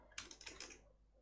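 Quick burst of computer keyboard keystrokes, a few close, crisp taps in rapid succession followed by quiet, with no talking.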